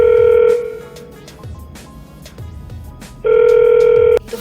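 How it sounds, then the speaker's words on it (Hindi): A phone call to a building guard rings out with two loud electronic ring bursts, one at the start and one near the end, separated by a quiet gap of faint background noise. "गार्ड जी को फ़ोन कर रही हूँ पूछने के लिए कि फ्रिज आया है कि नहीं।"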